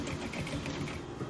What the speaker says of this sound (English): And yes, I'm still back tacking a little bit.